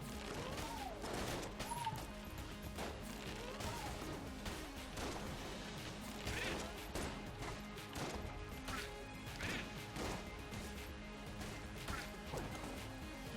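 Rapid, chaotic gunfire from a weapon's firing mode in the video game Enter the Gungeon, dense repeated cracks and smashing impacts running steadily throughout at moderate loudness, with no talking.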